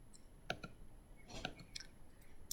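Computer mouse clicks while working in a spreadsheet, a few quiet, sharp, close clicks spaced unevenly over a faint background hiss.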